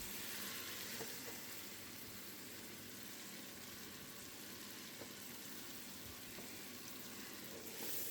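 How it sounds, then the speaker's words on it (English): Butter and flour, two sticks of butter with an equal amount of flour, sizzling steadily in a pan as a roux, a continuous soft frying hiss with no talk. "Melt this into a paste, just like you're making white gravy or a roux for Cajun cuisine"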